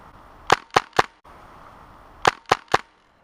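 Airsoft gun shots fired outdoors at a woodland game, two quick bursts of three sharp cracks each, loud and close, separated by a short quiet pause.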